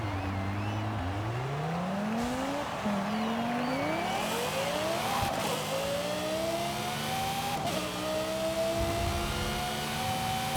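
An SUV with a swapped engine in Forza Horizon 5 revs hard, its pitch climbing steadily in repeated rising sweeps through several gear changes, loud and continuous with faint tire noise underneath.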